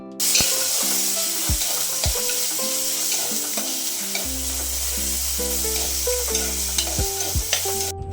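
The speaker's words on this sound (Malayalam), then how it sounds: "അത് നന്നായി വാടിയതിനു ശേഷം തക്കാളി ഇട്ട് നന്നായി ഇളക്കാം." Tomatoes frying with onions, ginger and green chillies in a pan, stirred steadily: a continuous loud sizzle with repeated scraping strokes of the spoon, no voices.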